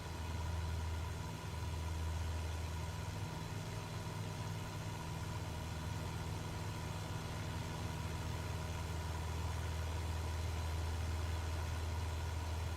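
Steady engine drone from a Cessna 172 Skyhawk in flight, a continuous low hum with strong low tonal bands holding evenly throughout with no breaks or talking.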